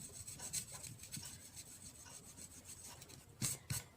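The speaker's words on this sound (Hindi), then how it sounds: "हम इरेजर की हेल्प से इनकी लाइंस को रब कर सकते हैं" An eraser rubbing out pencil lines on a paper card, heard as close, soft, repeated scratchy strokes that grow louder near the end, with no talk.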